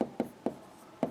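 Chalk or marker writing on a board during an organic chemistry lecture, four short sharp strokes tapping out at uneven intervals, close and clear with no talk.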